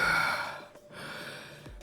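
A character in the game Goddess of Victory: Nikke giving a breathy, drawn-out yawn-like exhale that fades, followed by a brief quiet breath, close and alone.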